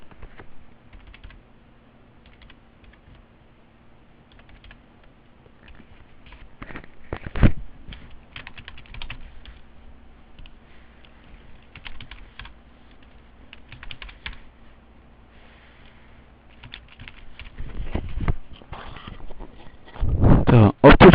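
A computer keyboard is typed on to enter a business registration number in accounting software, with sparse soft keystrokes, a louder click burst midway, and dense, louder typing at the end.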